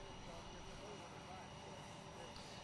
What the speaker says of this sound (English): Behind me you can see and hear Air Force One.